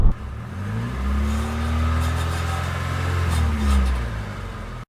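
Nissan 200SX S12 engine running near 2,000 RPM with a slight rattle, its steady low drone rising and falling slightly while a faint metallic rattle sits over it, heard close with no talk.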